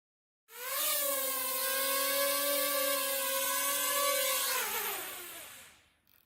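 A small programmed drone spins up with a steady, loud high-pitched rotor whine, holds it through a short forward flight, then winds down as it lands; no talking.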